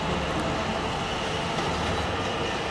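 A Stadler Flirt train at Budapest Keleti station: a steady, broadband rumble of rolling wheels and rail noise at moderate level with faint clatter, and no talking.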